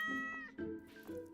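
Two or three close, clear meows from a cat in a farming video game, each rising and falling in pitch in quick succession with no talking.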